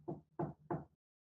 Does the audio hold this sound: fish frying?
no